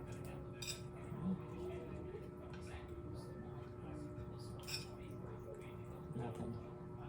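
Yakisoba being stirred in a pan, with repeated light scrapes and clinks of a utensil against the metal, fairly close, over a steady low background hum.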